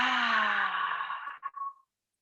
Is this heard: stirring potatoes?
no